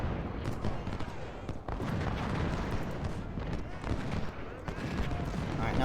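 Dense, continuous battlefield din of artillery and massed musket fire in Ultimate General: Civil War at Gettysburg, with overlapping distant volleys and sharp cracks filling the clip.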